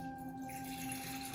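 Water poured into a drink shaker to mix a drink, a short steady trickling splash over a faint constant hum, with no voices.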